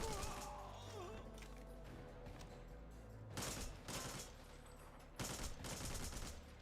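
Bursts of rapid gunfire in the video game Devil's Third, loud and close, with dense automatic volleys in two separate clusters amid background game sounds and no talking.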